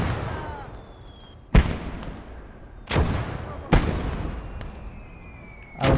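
Artillery fire in a video game battle in Motherland, with mortars and a field gun: four heavy booming shots at irregular intervals, each with a long rolling decay, no talk.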